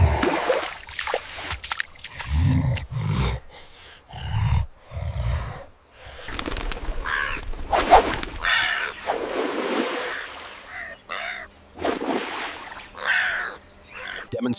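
Wild crow cawing in harsh, scattered bursts as a jackal rushes in on its meal, loud and close, mixed with rustling scuffles, low thumps and intermittent growling surges across the scene.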